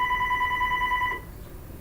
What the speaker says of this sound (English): Sorry, answer that phone call.